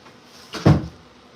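A door is shut once, a single thud with a short swish just before it, close and fairly loud against a quiet room.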